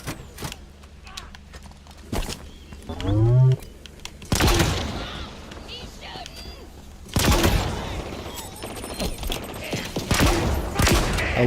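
Weapon fire in the Halo Infinite campaign, played on Xbox Series X, arrives as several loud, sharp bursts separated by quieter stretches, with a mechanical whine and creaks between them. A voice talks over parts of the gameplay.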